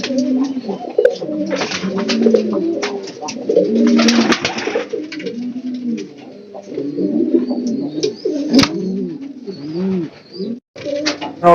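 Cutting Madina pigeons at a pigeon farm give repeated throaty coos, several birds overlapping close to the microphone in a steady, busy stream with brief pauses near the end.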